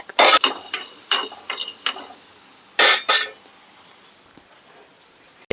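Mutton being fried and stirred in a pan for a village-style gravy, with a series of sharp scraping and clattering strokes of a utensil against the pan, some in quick pairs, then a quieter sizzling stretch.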